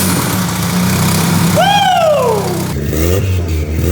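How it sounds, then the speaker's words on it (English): A rear-wheel drive Lancer engine runs steadily at a loud, close idle with a rough low rumble, then a rising whine sweeps up and falls away before the idle settles again. "we got our rear-wheel drive Lancer started for the very first time"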